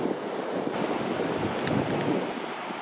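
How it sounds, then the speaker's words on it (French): A steady wind blows at the seaside at sunset, making a constant broadband rush of noise with waves mixed in, close and even throughout, no voices. "il y a un petit vent qui s'est levé là et je me caille"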